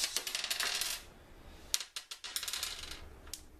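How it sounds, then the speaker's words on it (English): A die dropped onto the floor during a Betrayal at House on the Hill board game session lands with a burst of small clattering clicks, then a second flurry of light bouncing taps. "I dropped a dice on the floor"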